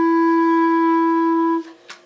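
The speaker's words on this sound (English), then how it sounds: "Or the second way to play is you play an F natural with like these 2 side keys, the bottom 2" A clarinet holds one steady F sharp, fingered with the two bottom side keys, sustained for about a second and a half before cutting off, followed by a brief breath or key noise; played alone and up close.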